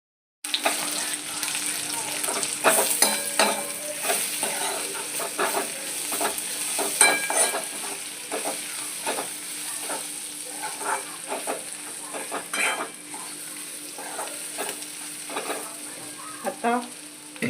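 A frying mixture seasoned with salt and turmeric being stirred in a pan, steady sizzling broken by repeated scraping and clattering strokes of the spoon, close and continuous.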